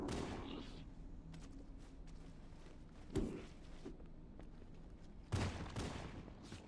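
Gunfire in the video game Halo: Combat Evolved as an enemy is shot, two distinct muffled shot bursts over a steady hum of game background noise, fairly faint.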